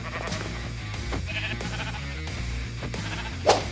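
Minecraft Pocket Edition sheep bleating once, a short faint call near the end, over steady looping game music with no talk.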